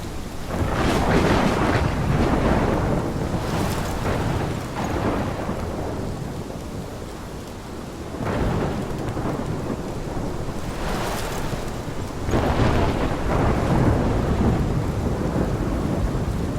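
A thunderstorm in the PS5 remaster of the video game Life is Strange, Episode 5: steady heavy rain under repeated deep rolls and cracks of thunder, loud and continuous with no voices.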